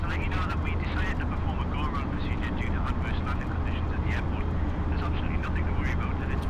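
A32NX airliner jet engines in a flight simulator, heard just after the throttles come back to the flex detent: a loud, steady broadband roar with a deep rumble, and a voice faintly under it.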